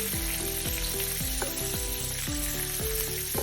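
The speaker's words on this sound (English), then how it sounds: "I'm gonna flip these sausages just like so. Make sure that we're browning both sides of them." Sausages sizzle steadily in a frying pan for sausage and peppers, with a continuous hiss of frying fat and several soft clanks as the links are turned. Tonal background music plays throughout.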